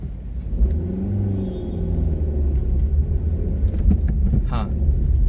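A car engine rumbles low and close as it pulls away from a toll booth and slowly builds revs, with someone talking over the engine the whole time.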